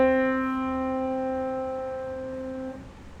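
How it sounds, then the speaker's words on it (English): A single piano note C rings out close and clear, holding steady for nearly three seconds before being damped. "if I were to play the notes C on the piano, it will sound like this"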